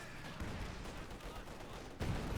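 Dense gunfire from a Company of Heroes 2 match, a continuous rattle of shots with a louder burst near the end, steady and fairly distant amid battle noise.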